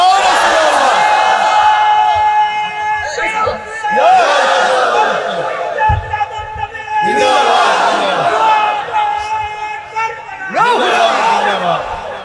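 A large crowd at an Islamic sermon gathering shouts a slogan in unison, three loud swelling bursts of massed voices with a single voice leading between them.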